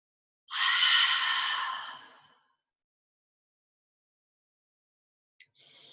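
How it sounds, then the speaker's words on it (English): One deep breath through the nose and out through the mouth during a yoga session: a long, close airy exhale that fades over nearly two seconds into silence, then a brief faint breath sound near the end. "Maybe take a few really deep breaths. Inhale nose, maybe exhale mouth."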